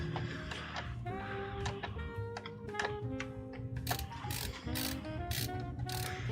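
Screwdriver driving screws into a streaming PC build on an ASUS ProArt board, heard as a rapid series of close ratcheting clicks and metallic turns, in bursts that pick up toward the end.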